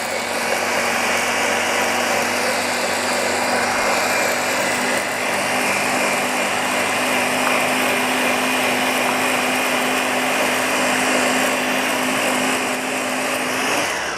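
An older flea-market milkshake mixer, run with its handle held down, gives a steady, loud motor whir with a high whine, running continuously and alone.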